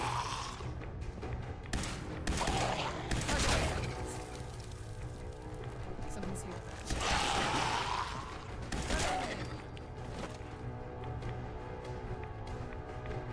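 Laser rifle fire in a video game, fired at close range in a facility. It comes as several loud, crackling bursts spread over the stretch, each rising sharply and then fading, with busy game sound running underneath.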